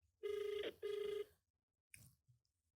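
A telephone rings twice in two steady electronic bursts during a phone-a-friend call on a game show, followed by a brief click and faint rustle, close with no talking.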